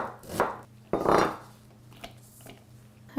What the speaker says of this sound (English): So first let's chop the onion.